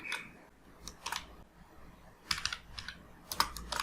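Keys clatter on a computer keyboard while code is typed, soft scattered taps at first, then denser quick bursts of keystrokes near and clear against a quiet room.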